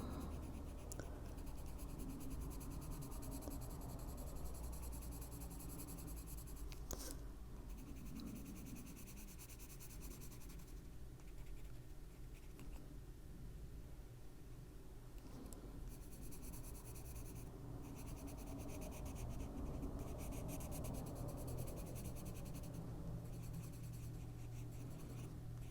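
A pencil colors on paper in marine green during adult coloring. Quiet, continuous scratching strokes go on steadily for the whole stretch, with brief pauses between passes and no voices.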